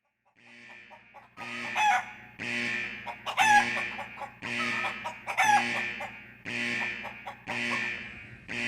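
Backyard chicken clucking in a run of repeated loud bursts, each a squawking cackle with rising cries, separated by short pauses, close and with no talk.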